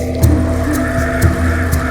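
A safari jeep in Ranthambore's Zone 1 turns around and drives back, its engine humming steadily and close, with a few short knocks and bumps breaking through at regular intervals.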